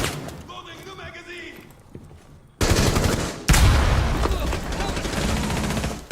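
Gunfire from Rainbow Six Siege during a competitive esports match, with loud bursts of shots cutting in partway through under steady game noise and commentator talk.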